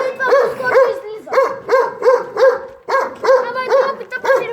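A dog barks in a steady series of sharp, close barks, about a dozen in quick rhythm, with people talking faintly in the background.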